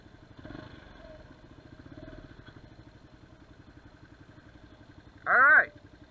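Motorcycle engine idling quietly with a steady low pulsing rumble and faint clatter, ending in a short louder burst near the end.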